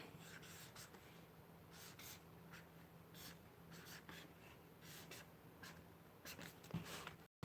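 A highlighter scratches and squeaks across journal paper in short strokes, faint and close, with no voice, over a steady low hum.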